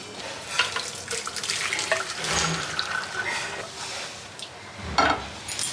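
Boiled mango is drained into a kitchen sink, water pouring and splashing steadily at close range, with a few clinks of a pot and some louder splashes.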